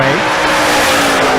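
A drag race car at Bandimere speedway roars loudly off the line in a violent wheels-up launch, engine howling steadily and close with a brief rising tone at the start.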